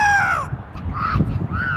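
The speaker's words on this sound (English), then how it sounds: "Frickin' Soros crows." Crows cawing outdoors at a street protest gathering, several loud, clear caws, one long drawn call followed by shorter ones, close by with faint background murmur.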